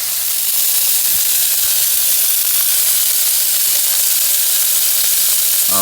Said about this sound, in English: Once I get it seared on both sides, then I'm gonna cook them at low temperature